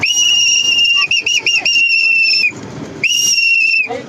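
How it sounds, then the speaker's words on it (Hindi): A whistle is blown to call a group of students on an adventure trip in Jim Corbett, giving two long, loud, shrill blasts with a brief warble and a short pause between them. "ये स्टूडेंट्स, इनको सीटी बजा के बुलाना पड़ेगा"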